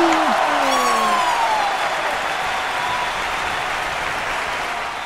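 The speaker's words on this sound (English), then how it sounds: "Give yourselves a round of applause." Crowd applause at a giant snail race event, a dense continuous clapping wash, with a faint whistle-like tone sliding across the start.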